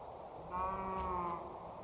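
A single low, drawn-out moo from a cow in a Minecraft modpack game, one brief bellow rising out of a quiet background.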